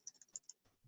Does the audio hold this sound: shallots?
no